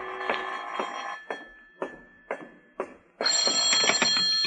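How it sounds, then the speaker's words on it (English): An old telephone bell in a radio drama rings in a quick series of short bursts, then breaks into a louder, sustained ring near the end. "This is the telephone company calling, Mr. Marlowe."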